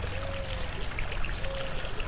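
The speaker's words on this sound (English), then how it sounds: "You can hear the water trickling" Water trickles steadily into a garden pond beside a dining deck, a soft continuous burble with faint splashes and a thin background tone, calm and fairly quiet, no talking.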